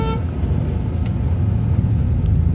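Steady loud road traffic on Najafgarh road, a busy route toward Narela and Bawana, with cars rumbling past close by and a brief horn toot.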